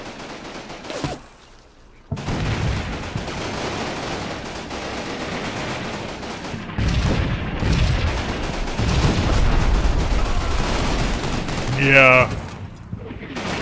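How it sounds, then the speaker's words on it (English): Battlefield gunfire with machine-gun bursts and booming artillery rolls on throughout the Combat Mission Rome to Victory game, dense and loud, with a brief quiet gap near the start and a voice speaking briefly. "and artillery is of course landing as well"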